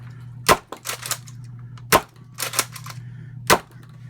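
A BOOMco Flipbow toy blaster fires three times, each shot a sharp, loud snap spaced about a second and a half apart, with fainter clicks and rattles of the mechanism between them over a steady low hum.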